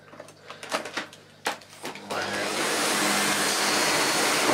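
A Miele Revolution 500 S556 vacuum cleaner starts after a few clicks and handling knocks, then runs with a loud steady broadband whoosh that holds to the end.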